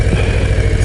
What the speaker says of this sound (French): je me contente du bruit du moteur, du gros 117 cubic inch, 1923 cm3